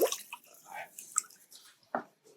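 A hand dipping into a bucket of water gives a few soft splashes and drips, with one fuller slosh near the end, close and fairly quiet.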